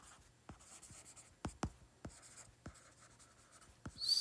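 Pen or marker strokes on paper while a physics solution is written out by hand, about eight sharp, quiet scratches at an uneven pace, near and alone.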